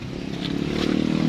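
A large engine powering a hoist that lifts cement for casting a second-storey floor runs steadily and loudly nearby, a continuous rough mechanical drone with clattering overtones that grows slightly louder throughout.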